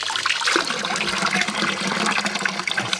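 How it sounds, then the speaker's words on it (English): Water from a mountain spring near Kissos village gushes and splatters close by, a busy continuous trickling and splashing with bright droplet detail throughout, no talking. "It's water coming from a spring in the mountain."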